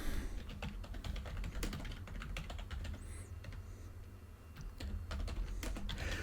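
Rapid, irregular keystrokes clatter on a computer keyboard close by, a steady burst of typing with short pauses and no voices.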